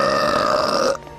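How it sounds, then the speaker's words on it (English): A long, loud, croaky burp from a cartoon episode, sustained for about a second and then cutting off sharply, with no voices around it. "I just hate the burping in this fucking episode"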